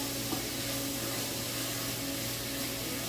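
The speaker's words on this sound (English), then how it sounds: "Get that meat cooking." Meat sizzles in a hot pan with a steady, bright hiss and a faint hum underneath, close and continuous.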